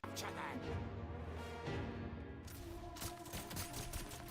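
Gunfire in the game Wuthering Waves, quiet and dense rattling shots layered under music and in-game voices during a fight.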